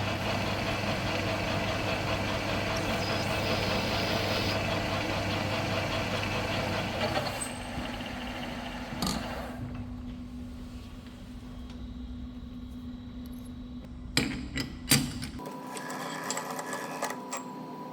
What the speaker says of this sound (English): Next thing I'm going to do is chamfer that hole